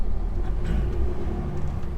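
A car on the road gives a steady, close, low rumble of engine and tyres that stays even throughout with no other sound on top.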